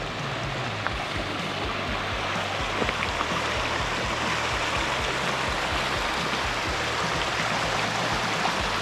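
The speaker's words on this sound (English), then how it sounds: "There's a nice creek out here." A creek flows beside gravel bars below a towering mountain, a steady, close rushing wash of water with a faint low hum beneath it and no talking.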